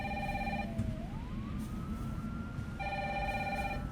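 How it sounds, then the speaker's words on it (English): A phone rings in Resident Evil 3 as Brad keeps calling Jill's phone. A bright electronic ring sounds in two bursts with a pause between, over constant game background noise. "Brad will never stop calling Jill's phone until she picks it up"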